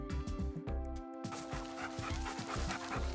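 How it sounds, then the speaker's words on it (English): A seven-year-old Weimaraner pants close by in a steady, rapid rhythm of short breaths, pausing briefly once, with nothing else competing. "here he is again. So he's our 7-year-old Weimaraner"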